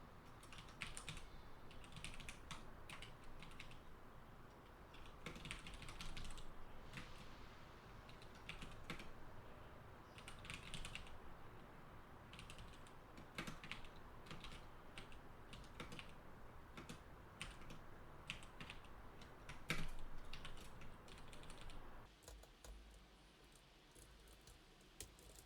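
Steady rapid typing on a computer keyboard, dense clicking keystrokes continuing almost without pause and ending in a brief quieter stretch.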